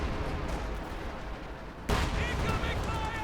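Priest self-propelled artillery fires in Company of Heroes 2, one sharp loud blast about midway that cuts through a dense, steady rumble of battlefield gunfire and noise.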